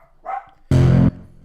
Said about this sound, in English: Ignore that dog. That's my best pal Bucky, and he's barking.